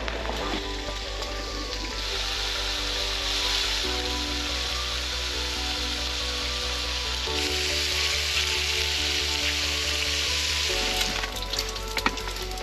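Bacon sizzles and spits steadily in a pan below deck on a sailboat in Arctic waters, a continuous close frying hiss with a low engine or generator drone underneath and brief clatters near the end.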